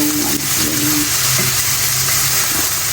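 Chicken sizzles loudly in a frying pan for pancit, a steady dense hiss of hot oil close up, with faint scraping and bubbling beneath and no talk.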